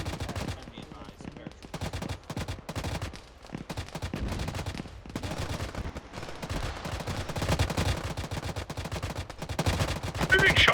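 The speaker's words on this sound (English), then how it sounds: "we're definitely being shot at from the west somewhere" Sustained gunfire in Arma 3, a dense run of rapid automatic shots and cracks continuing throughout, loud and close, with voices talking over it.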